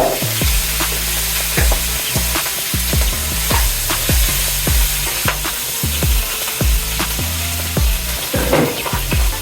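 Meat sautéing in hot oil for a home-style dish, a steady loud sizzle with repeated scraping and clinking of a utensil against the pan, no voices.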